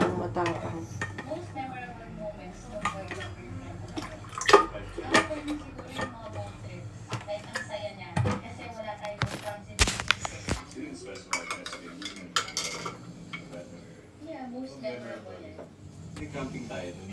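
A metal utensil stirs and scrapes in a cooking pot at a campsite, with irregular clinks and knocks of metal on metal that continue under people chatting nearby.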